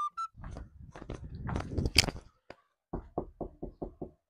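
Repeated knocking, a run of six evenly spaced firm raps near the end, preceded by a busier stretch of louder thumps and crunchy clatter.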